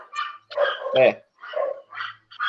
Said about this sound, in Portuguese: Olha o barulho da cachorrada minha aqui.